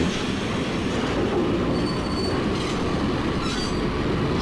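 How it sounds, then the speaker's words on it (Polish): Train in the action game Max Payne rumbles steadily on the rails, its wheels screeching and squealing with a clattering metallic drone, loud and continuous with no voices. "Jedzie pociąg z daleka."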